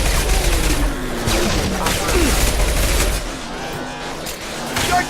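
Dense gunfire in the video game Mass Effect 2, a loud sustained fusillade of rapid shots and bursts with game voices mixed in during combat.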